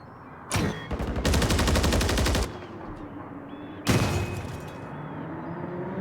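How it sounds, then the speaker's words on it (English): A cruise missile strike in a video game during a Malone versus University of Jamestown esports match: a loud, rapid burst of gunfire-like blasts, then a second sharp impact a moment later, all over a steady background rumble. "a cruise missile will come down and take out one of the attackers"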